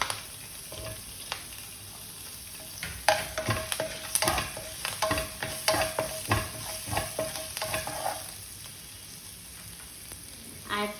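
Ginger and garlic sautéing in a pan for a vegetarian vada pav, with a steady low sizzle and scattered stirring scrapes and clinks, moderately close, no voices.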